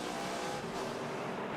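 NASCAR Nationwide Series race cars roar around the Milwaukee oval in a 2008 race, a dense, loud wash of engine noise from several cars running close together.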